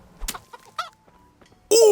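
A chicken in the medieval game Kingdom Come Deliverance gives a few short clucks, then lets out a sudden loud squawk at the end.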